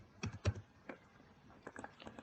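Quiet close keystrokes on a computer keyboard as data is entered, a few scattered clicks and short bursts of typing over a soft background.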